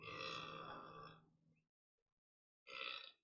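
A long, loud, rumbling burp lasting over a second, tailing off into silence, followed by a second short, sharp burp.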